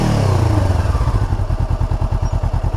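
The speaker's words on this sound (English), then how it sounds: "it's got that twin cylinder sound" A 2016 Honda CBR500R twin-cylinder motorcycle engine runs close by, moving from a smooth rumble into a rapid, even chain of throbbing pulses with a lumpy twin-cylinder beat. No one speaks.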